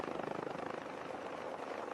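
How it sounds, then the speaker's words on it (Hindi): A helicopter flies by with a steady, loud broadband roar and a fast, even rotor pulse throughout, no other sounds on top. "हेलीकॉप्टर"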